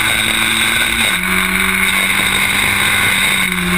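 Historic Formula Ford race cars at Snetterton, engines droning loud and steady with shifting pitch as they hold and change revs through the corners, a continuous close motor roar throughout.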